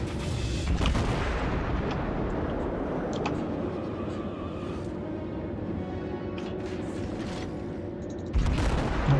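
Naval gun salvos rumble through a World of Warships ranked battle, with a dense steady roar of cannon fire and booming shots. A louder blast lands near the end.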